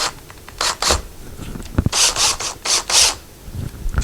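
A Phillips head screwdriver bit loosely driving screws while installing a closet rod and shelf, giving close, short grinding and rasping bursts in an uneven rhythm, with no talk.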